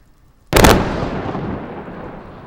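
A single loud explosive blast set off on a snowy mountainside to trigger an avalanche, a sharp sudden boom followed by a long rumbling roar that slowly fades.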